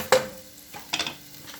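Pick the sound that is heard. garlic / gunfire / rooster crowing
garlic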